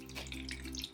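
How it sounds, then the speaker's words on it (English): Water poured into a Lechuza self-watering planter holding a repotted rubber plant, a steady close trickle running through the soil into the reservoir with no talk. "I will pour water until I hear that it's running through into the reservoir"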